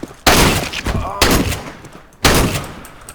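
Three loud, spaced shotgun blasts in CS:GO, likely the XM1014 automatic shotgun, each sharp crack followed by a short ringing decay, fired alone without talk.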